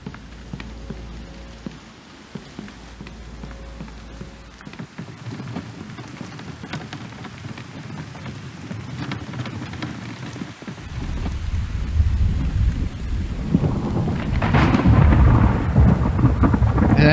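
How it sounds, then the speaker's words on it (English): Steady rain and rolling thunder in a hardcore survival video game at night, a constant wash of rainfall that grows heavier and louder toward the end, with low thunder rumbles beneath. "Oh, rain."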